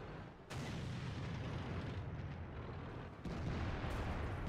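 Distant tank gun blasts in a World of Tanks battle on the Mountain Pass map, two heavy booming reports rolling over a continuous dense rumble of battle noise.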